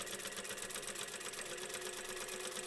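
Sewing machine stitching steadily around the edge of a fabric cutlery pouch, a continuous even whirr with a fast rhythmic needle pulse throughout, close and moderately loud with no talk.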